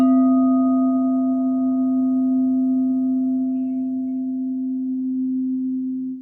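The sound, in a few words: C note tone for sacral chakra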